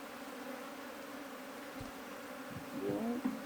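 Honeybees buzz steadily inside a wooden hive box with a new queen. The hum is dense and continuous, and a louder buzz swells near the end.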